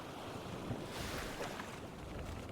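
Soft, continuous water rush and swishing as a canoe speeds across the water in a survival video game, faint and even with a slight swell in the middle.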